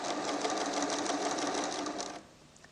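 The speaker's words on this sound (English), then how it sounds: "Touch it again, it now sews forward." A Pfaff creative 1471 sewing machine stitching forward, its fast steady motor hum and needle chatter running loud and continuous before cutting off abruptly near the end, leaving quiet room tone.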